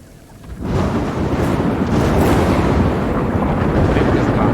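Thunder rumbles loudly and continuously, starting after a brief quiet moment and holding a dense, wind-like roar with rain-like hiss throughout, as a storm sound effect over a jungle at night.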